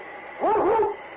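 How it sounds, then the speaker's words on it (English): Yukon King, a husky lead dog of the Northwest, gives one drawn-out howling bark with a wavering, whine-like pitch, loud and close, heard alone without talk. "It's Yukon King, swiftest and strongest lead dog of the Northwest"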